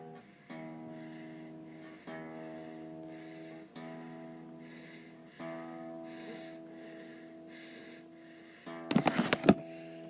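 A single E note plucked repeatedly on a Les Paul-style electric guitar, about five times at steady intervals, each ringing out and decaying, followed by a brief burst of clattering noise at the end.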